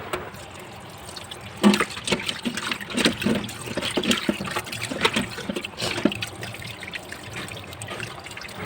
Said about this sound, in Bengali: পরিষ্কার করে মাছটাকে ধুয়ে নেব।